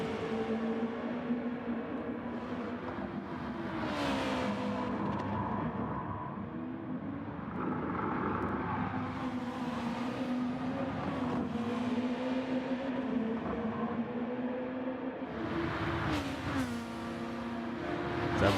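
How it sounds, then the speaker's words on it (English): Race cars battle side by side in Gran Turismo 7, engine tones rising and falling continuously as several cars run close together, with whooshes of cars passing; no talking. "they're racing each other hard, and bumping each other"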